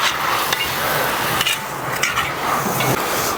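Onions sizzle steadily in a hot pan toward golden brown, with a spoon or spatula scraping and stirring every second or so, loud and close, no talking.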